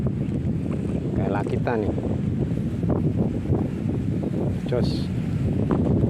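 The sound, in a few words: strong roaring wind while fishing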